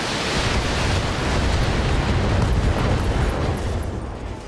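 Heavy weapons fire and explosions from battling mechs in the video game BattleTech, a dense, continuous roar of blasts and rumble lasting several seconds, loud and close, with no talk over it.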